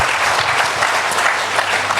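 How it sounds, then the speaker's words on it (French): A church congregation bursts into loud, sustained applause, a dense wash of clapping from many hands that holds steady throughout, with a few voices faintly mixed in. "Est-ce qu'on peut acclamer le roi pour ça?"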